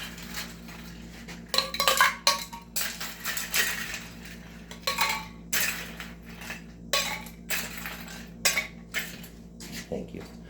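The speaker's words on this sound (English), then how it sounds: "All right, so we got some ice in there." Ice clinks and rattles into a cocktail mixing glass for an original Old Fashioned, a series of sharp clattering bursts over roughly ten seconds, close and fairly loud with brief pauses between pours.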